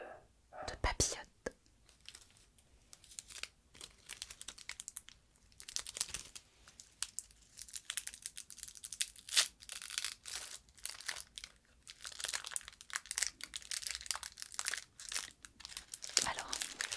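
Papillote chocolate candy wrappers crinkle and tear close up in a quiet ASMR setting, with sharp crackling bursts and rustles scattered across the stretch alongside soft whispering.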